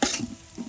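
Ground spices sizzling in hot oil with pieces of giant Padma boal fish, a loud burst of frying hiss and stirring, close up and with no voices.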